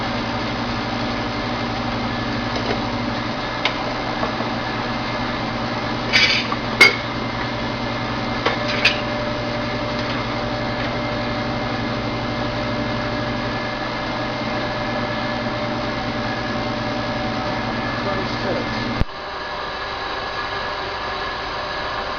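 A vacuum pump hums steadily while pumping down a handmade type C triode vacuum tube with an oven around it, a constant droning whir with faint clicks and a slight change in tone near the end.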